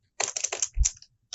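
Computer keyboard keys typed in three quick bursts of clacks, a short pause, then a final brief flurry, close and clear with no talking.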